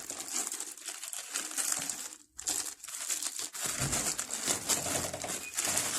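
Taped cardboard packaging on a Universal stabilizer box being opened, with close crinkling, tape peeling and rustling handling noises over about six seconds, briefly pausing midway.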